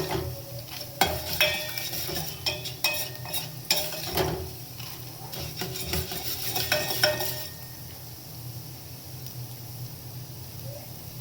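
Whole coriander seeds dry-roasting in a pan, with stirring, scraping and light sizzling in irregular bursts for about seven seconds, then a quieter steady hiss with no talk.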